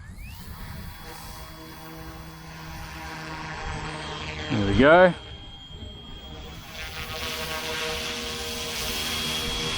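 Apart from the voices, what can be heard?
F07 UH-1D Huey RC helicopter taking off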